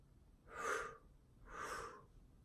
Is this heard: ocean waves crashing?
no